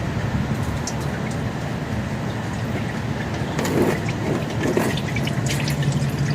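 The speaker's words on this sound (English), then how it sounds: "We'll let this drain really well, trying to get all that old oil and flush out of there before we put in the Amsoil." Used engine oil drains steadily from a 2006 Chevrolet Express 2500 van with a 6.0L engine, a continuous close liquid pour and trickle with faint drips and clinks, no talking.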